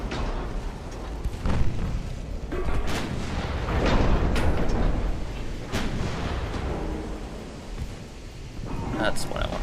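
Naval guns on a warship in a video game fire high-explosive shells, loosing a series of heavy booms and rumbling blasts at irregular intervals over a continuous roar of battle.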